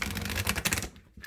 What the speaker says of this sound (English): I'm going to pull some oracle cards.